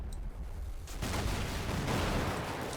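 Rapid, dense burst of 30mm cannon fire in the war game Combat Mission Black Sea, starting abruptly after a faint lead-in and rolling on as continuous loud rattling with no voices over it.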